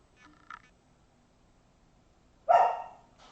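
A single dog bark rings out sharply at close range after a faint short yelp, against an otherwise quiet room.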